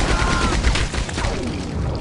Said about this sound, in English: this is the Maxim machine gun